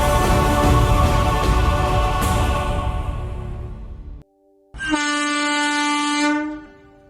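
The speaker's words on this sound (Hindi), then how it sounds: "हमने केएसआर बैंगलोर स्टेशन से ट्रेन पकड़ी" A train sounds its horn at KSR Bangalore railway station: a loud, sustained, harmonic blast over rumbling noise, a brief near-silent gap, then a second clear horn tone that fades out.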